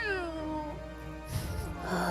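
A kitten meows in drawn-out, wavering cries, close and fairly loud, followed by a rougher burst of noise.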